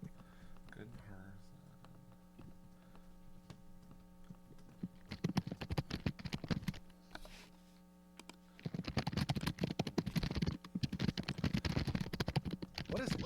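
Clicky computer keyboard typing from a chat participant, a steady patter of keystrokes over low mains hum, with brief pauses and a louder, denser burst of typing in the second half.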